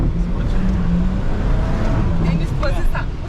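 An off-road car engine runs at full throttle, a loud steady roar heard from inside the vehicle, with people talking over it.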